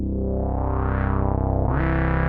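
A Moog Sub 37 synthesizer sustains a loud, bright, buzzy E note with a rich harmonic stack, its pitch gliding slowly in portamento before jumping, playing alone without voices.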